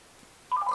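A single brief phone dialing tone sounds when a call to GameStop is placed, starting abruptly after a short quiet moment and ringing clearly and close.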